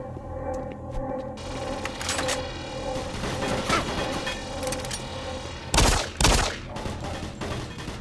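Gunfire from the Doom 3 video game, scattered sharp shots and bursts over a steady hum of game ambience, with two louder booming blasts near the end.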